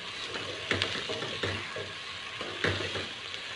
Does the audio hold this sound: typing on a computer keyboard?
no